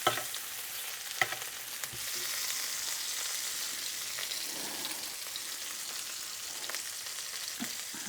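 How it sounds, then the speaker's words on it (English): Lobster sizzles in a pan while being basted with butter, a close, steady frying hiss with a few sharp clinks of the spoon or pan near the start and no speech. "And now we can baste them with this butter."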